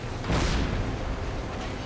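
Deck gun of a German U-boat in Silent Hunter 3 firing on a ship in the North Sea, a single heavy boom with a rumbling tail that fades into steady background noise.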